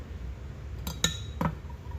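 A utensil stirs heated liquid plastic bait with a drop of dark blue dye in it, giving three quick, bright clinks against the container over a quiet background hum.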